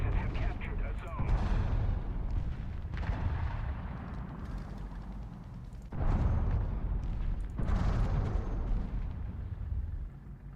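A tank in a video game fires artillery barrages, with heavy booming blasts in sustained bursts that cut off and restart, loud and close, and voices talking underneath.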